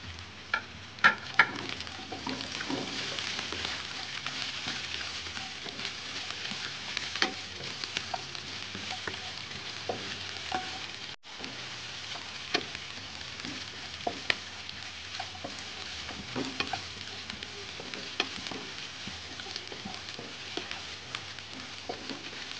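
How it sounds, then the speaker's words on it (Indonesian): Garlic and onion sautéing in a pan, with a steady close sizzle and occasional clicks of stirring running evenly throughout, no voices. "Tumis sampai bawang putihnya harum dan layu. Lalu saya masukkan bawang bombay,"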